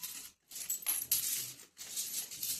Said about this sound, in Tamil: 20 ரூபா காசு 3 வந்துருச்சுமா